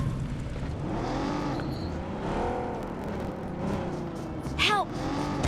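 A car in the video game PUBG drives along with a steady engine drone that rises and falls in pitch, with a sharp high squeal near the end and someone talking over it.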